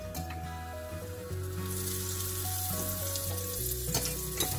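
Mushrooms frying in oil in a pan, a continuous bright sizzle underneath a sustained tonal hum, close and even, with no one talking.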